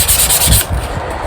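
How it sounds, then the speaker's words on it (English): Sandpaper is rubbed by hand over the rough, saw-torn edges of cut timber on a pelmet, in brisk close scrubbing strokes that ease off halfway. "I get bit of sandpaper and you sand off the rough pieces"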